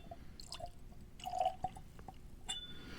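Whiskey poured into a glass: soft liquid trickles and drips with a few faint glassy clinks, quiet and close, in short uneven bursts over a low hum.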